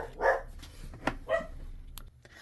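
Dogs bark indoors in a few sharp, close woofs spaced about a second apart, with quieter rustling between them and no voices.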